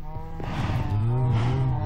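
Minecraft cows moo close and loud, one low drawn-out bellow sliding into another overlapping call, with no speech.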